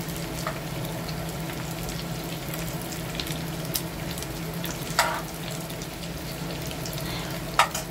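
Lumpia frying in a pan at home, a soft steady sizzle throughout with a few sharper pops and clinks, at moderate distance and with no talking.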